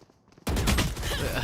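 Sudden dense burst of gunfire in a Valorant pro match, SEN versus GX at Valorant Champions, erupting after a brief quiet moment and holding loud and continuous to the end.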